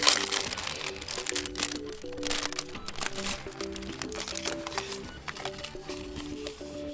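A Telesin lens protector box for the DJI Action 2 is opened by hand, with close crinkling, rustling and clicking packaging sounds in irregular bursts and no talk.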